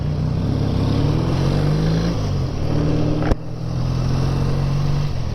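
A BSA A10 650 twin motorcycle engine runs steadily while riding, a continuous loud drone with wind rush and shifting pitch, plus a brief sharp knock midway, and no talking.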